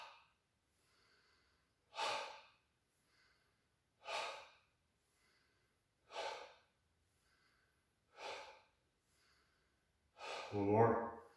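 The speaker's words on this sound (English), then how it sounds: "So it's an exhale through the mouth" Mouth exhales in a yoga breathing exercise, five evenly spaced breathy puffs about two seconds apart, close and clear, ending in a longer, louder voiced exhale.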